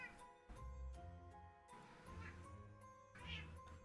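A house cat meows several times nearby, drawn-out vocal calls over quiet background game sounds, with no speech.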